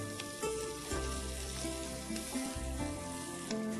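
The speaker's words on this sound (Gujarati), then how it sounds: "અને આ બધું સેજ લાલાશ પડતું શેકવાનું છે" Onion and spice paste sizzle and fry in a pan while being roasted until reddish for kasariya paneer, with a steady close crackle and occasional stirring scrapes, no talking.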